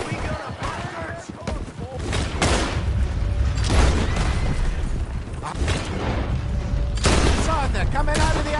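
A Red Dead Redemption 2 gunfight in the Lemoyne region, with a dense fusillade of close gunshots crackling in rapid, overlapping bursts over a rumbling backdrop. Shouted voices cut in between the volleys.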